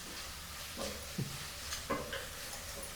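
Onions frying in a pan, a soft, quiet sizzle with a few light scraping stirs standing out, no one talking.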